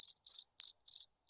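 A cricket chirping sound effect played from a Discord soundboard: four crisp chirp bursts in a steady, regular rhythm, clear and alone with no talking.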